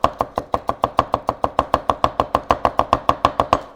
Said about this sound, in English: The other thing I want to show you is how to chop up garlic.